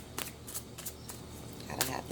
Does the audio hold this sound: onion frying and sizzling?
no